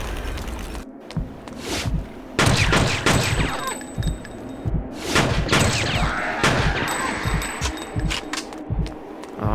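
Video game gunfire crackles in dense bursts and fusillades of sharp shots, loud and close, with brief pauses between volleys and thumping impacts mixed in.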